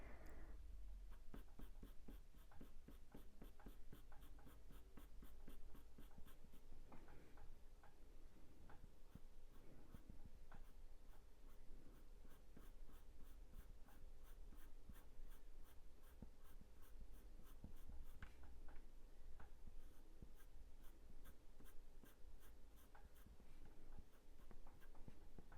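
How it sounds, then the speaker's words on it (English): A pencil scratches across paper in rapid, steady strokes while a cat's fur is drawn, close and quiet, a continuous fine scraping with a faint regular ticking behind it. "I just keep swizzing my pencil around just so I keep that point"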